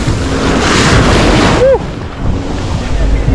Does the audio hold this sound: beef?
no